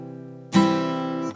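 A guitar's low E string is strummed and rings brightly for under a second, then is muted abruptly, with a quieter sustained note underneath beforehand.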